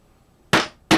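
Two sharp hammer taps strike a Lee Loader decapping pin to knock out a spent primer from a .38 Special case, close, loud metallic knocks about half a second apart.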